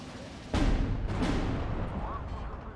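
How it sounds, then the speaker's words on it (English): WW2 artillery fire in the real-time strategy game Steel Division 2: a sharp heavy boom followed by a couple of quicker blasts, rumbling over a steady battlefield din. "Is that artillery?"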